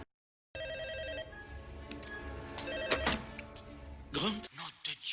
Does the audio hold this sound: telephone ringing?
yes